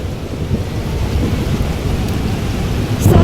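A heavy thunderstorm, with dense rain pouring and a deep continuous rumble of thunder, loud and steady throughout with a slight swell at the very end.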